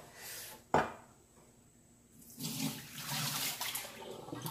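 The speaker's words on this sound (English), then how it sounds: "Let me dump this water out real quick." Hot water is dumped out of a Nespresso VertuoLine coffee setup into a sink. A sharp knock comes first, then a quiet pause, then a rushing, splashing pour that lasts a couple of seconds.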